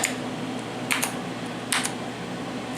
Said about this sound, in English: I'm pressing keys and nothing's happening.